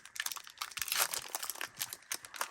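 A Pokémon card pack is torn open, giving close, crinkly foil rustles and tearing with irregular bursts of crumpling.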